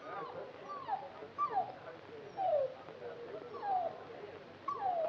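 An unhappy dog at a dog show whimpers, a series of faint, high, thin whines at irregular intervals over quiet background murmur.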